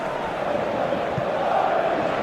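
A boisterous stadium crowd in an eFootball match, a steady dense roar of many voices that holds level throughout at close, full volume.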